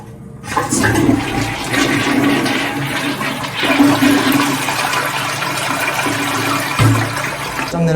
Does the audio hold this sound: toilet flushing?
yes